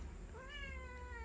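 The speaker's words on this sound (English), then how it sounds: "let me see if I can catch this cat" A single drawn-out meow from a cat outdoors at a garden, rising then falling in pitch, fairly close over a steady low background hum.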